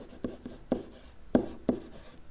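Marker strokes squeak and tap on a classroom board in short bursts, several distinct scratches spaced unevenly, close and moderately loud with no talk.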